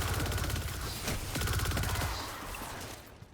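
Rapid automatic gunfire from the Manticore weapon in Destiny 2 rattles in a dense, fast burst of shots, loud and close, fading slightly toward the end.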